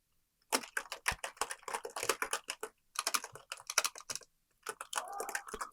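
Rapid, uneven clatter of keys on a computer keyboard, close and clear, in bursts separated by short pauses, with no talking.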